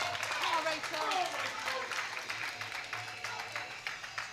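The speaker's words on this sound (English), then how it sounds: "you can hear the crowd really getting behind Rachel here so that she gets this 3rd attempt on her squat" Crowd cheering and clapping at a British Masters powerlifting meet as a lifter attempts her third squat, a continuous wash of applause and shouts that stays loud, then eases slightly, with voices calling out within it.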